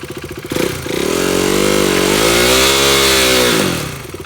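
A motorcycle engine revs hard and holds high during a burnout attempt with the front brake held, rising from a lumpy idle, sustaining a loud buzzing roar, then dropping back to idle.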